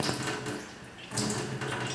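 Tap water runs steadily as a portable alkaline water filter bottle is rinsed, a close broadband splashing rush with a brief dip in the middle before the flow picks back up, no talk over it.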